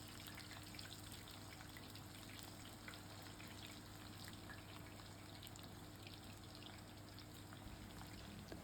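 Pakora balls frying in hot oil, a faint continuous sizzle with scattered fine crackles over a low steady hum, no talking.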